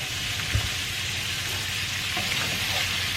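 Vegetables sizzle and fry in olive oil and butter in a pot for red beans and rice, a steady close crackle with a brief stir clatter.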